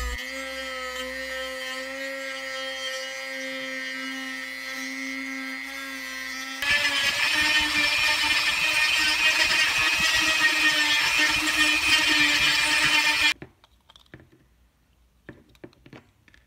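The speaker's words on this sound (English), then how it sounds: "I'm gonna grind it down on top with the Dremel." A Dremel rotary tool whines steadily, then bites into the plastic torso of a custom action figure with a louder, harsher grinding buzz for several seconds before stopping, leaving faint handling noises.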